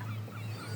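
A gull's short call near an island fort by the sea, a faint nasal cry over a steady low hum and distant water sounds.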